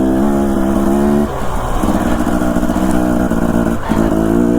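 A Husqvarna enduro motorcycle descends an Idaho mountain with a loud, steady engine drone close to the microphone, its pitch dipping and shifting as the rider eases off and picks up throttle, with no talk.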